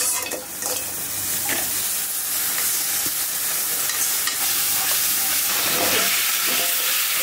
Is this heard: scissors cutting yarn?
no